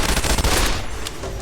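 Assault Carbine bursts in Fallout New Vegas: a rapid volley of loud, close gunshots fills the first half, then thins to a single crack and fading echo.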